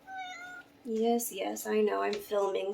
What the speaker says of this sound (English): so of course the cat wants to be involved